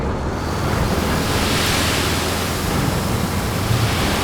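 Sand pouring from a dump truck in RoadCraft, a steady broadband rushing hiss that holds evenly loud throughout with no pauses, close and continuous like a long spill of granular material.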